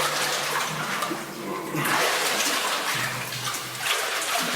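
A swimmer pushing through deep, freezing cold water toward Oro Denoro in a life jacket, continuous churning splashes and sloshing close by, surging and easing in waves, with no speech.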